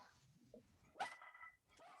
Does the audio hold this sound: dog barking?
yes